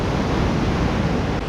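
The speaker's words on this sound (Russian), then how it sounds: "Вот такой, в принципе, океан здесь каждый день, целый день." Ocean surf rolling onto the beach at Weligama, Sri Lanka, a steady, loud, continuous wash of breaking waves with no distinct gaps, heard alone without voices.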